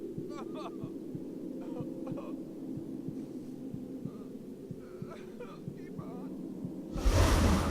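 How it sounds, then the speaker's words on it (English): Slow, steady heartbeat of vampire ghosts in The Sims 3, a low thudding pulse repeating throughout under a humming game background, ending in a brief burst of noise. "vampire ghosts are the coolest because they get this heartbeat"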